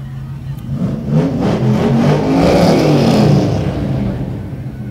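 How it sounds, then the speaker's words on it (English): A mid-1960s Ford Mustang GT rolls past in a Halloween parade, its engine a steady, loud rumble that swells toward the middle and eases off, with faint voices underneath. "Here comes another Mustang GT."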